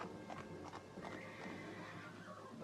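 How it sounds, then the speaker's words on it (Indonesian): A horse spurred into a gallop in an audio drama: hoofbeats clatter with a neigh near the start, fairly faint and continuous under a busy background. "Ki Sabrang dengan tangkas memacu kuda mengejarnya sehingga gadis itu ketakutan luar biasa"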